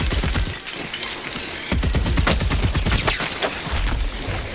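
Rapid, sustained gunfire from a weapon in Tiny Tina's Wonderlands, loud and close, with dense bursts of shots running continuously throughout and brief dips between volleys.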